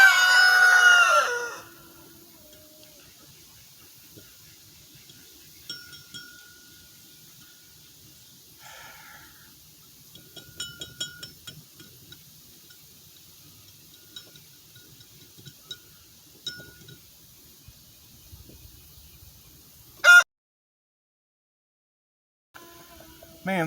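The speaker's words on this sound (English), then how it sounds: "Man, these birds just have to get right in my workspace" A rooster crows loudly up close at the start, then chickens cluck and scratch intermittently nearby in a quiet outdoor workspace, with a sharp bang near the end.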